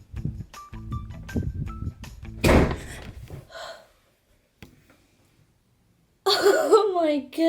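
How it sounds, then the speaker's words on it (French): A door blown shut by a draft from an open window lands as a loud, sharp slam partway through, surrounded by voices and gasps before and a startled cry after. "la porte s'est fermée à cause de la fenêtre est ouverte"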